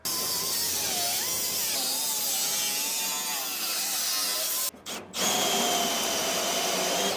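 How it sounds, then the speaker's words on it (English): A power cutting tool slices the metal lip off a 1968 Dodge Charger body with a loud, sustained whine that wavers in pitch, breaks off briefly, then resumes at full strength. "I'll cut that lip off of there and then just cut up through here, get this big chunk gone"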